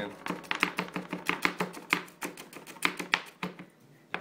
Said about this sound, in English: I'm gonna mince the garlic up and cut up my jalapenos